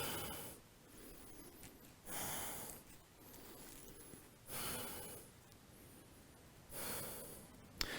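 Slow, deep breathing held in a low yoga stretch, heard as four long, close, airy breaths alternating between inhale and exhale at an unhurried, even pace.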